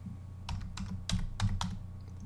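Fingers typing on a computer keyboard, a short burst of several sharp clicks in an uneven rhythm, up close over a low steady hum.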